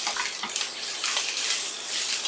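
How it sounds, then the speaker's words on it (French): Water hits a hot pan to deglaze it, a steady bright sizzling hiss that rises and falls slightly over a couple of seconds, close and fairly loud, with no talking. "qu'on déglace avec l'eau, on va gratter les sucres de cuisson"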